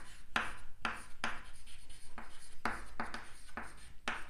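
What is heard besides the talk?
writing out an answer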